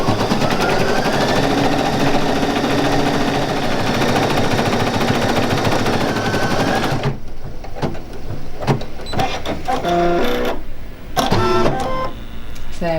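A Brother Innovis 800E embroidery machine stitches a green heart with a dense, rapid mechanical whirring and clatter that runs close and loud, then breaks into a few short bursts of stitching and clicks.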